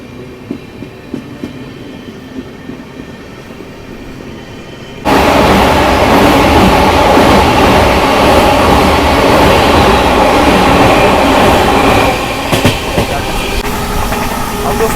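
A passing train rumbles by at Chunar Junction, the Sampoorna Kranti Express, switching abruptly from a low quiet background to a loud, steady, close roar of rolling wheels and carriages that continues to the end, easing slightly near the close.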